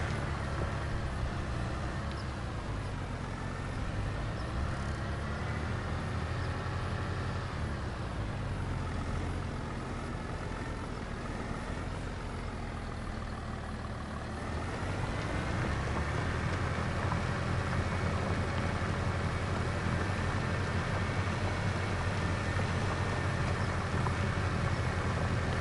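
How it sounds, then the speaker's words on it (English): A tractor in Farming Simulator 25 drones steadily while pulling a small plow, a continuous engine hum that swells louder and rougher about halfway through. "I'm used to using a much bigger plow. This thing is taking forever."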